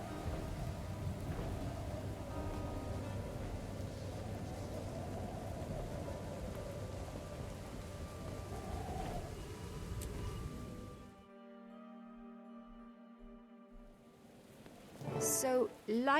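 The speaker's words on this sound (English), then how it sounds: "The winds are picking up. The storm nears even more." Video-game thunderstorm with dense steady rain and low rumbling for several seconds, then the storm cuts off to a quieter tonal hum with some clicks and a loud burst at the end; a voice speaks faintly.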